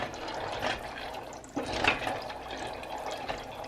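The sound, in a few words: pasta boiling in a pot of water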